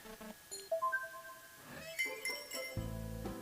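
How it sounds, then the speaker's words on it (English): Glass of water set down at a quiet cafe in a video game: a few light glassy clinks and chimes, followed by a short soft musical tone. "Yamato brings me a glass of water"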